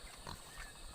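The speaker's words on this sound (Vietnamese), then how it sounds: "Đây là lợn đen" Black pig of the Hmong highlands grunting once or twice, close and fairly soft, over faint outdoor background noise, brief and alone without speech.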